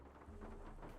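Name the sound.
thunder of a lightning strike in the Nancy Drew video game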